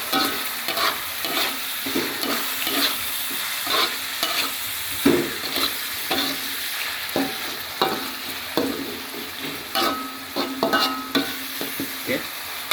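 Meat for a Chinese-style stir-fry is stirred in a hot pan, with a constant sizzle under repeated scraping and clanking of the utensil, close and busy throughout.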